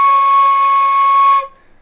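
A single sustained B flat marching flute note, a low E, bright and steady, rings for roughly a second and a half before stopping abruptly.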